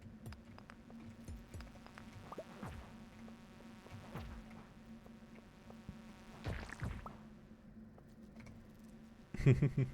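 Bees buzz in the mines of the video game Stardew Valley, with quiet droning insect hums and small clicks and swishes scattered through the scene, growing busier near the end with a short louder burst.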